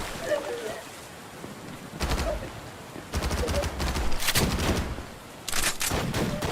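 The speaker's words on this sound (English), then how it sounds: "Now, are they shooting at me, or are they shooting at each other?" Gunfire erupts in the ADACA shooter game as bursts of rapid shots in several clusters, louder bursts breaking in after quieter stretches.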